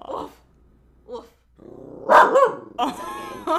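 Dog giving short barks, yips and a low growl in a close, bursty sequence near the microphone, with a brief murmured voice mixed in.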